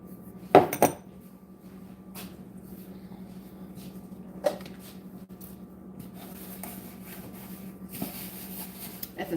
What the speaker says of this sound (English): At the same time putting dishes up.